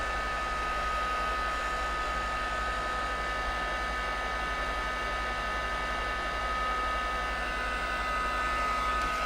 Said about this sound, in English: I'm using a heat tool just to speed up the dry process so that I don't have a magic oven here